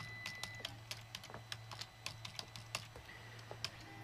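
Someone types on a computer keyboard, a steady run of close, crisp key clicks at an uneven pace over a low constant hum, with no talking.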